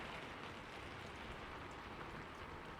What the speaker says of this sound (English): Rain kept falling.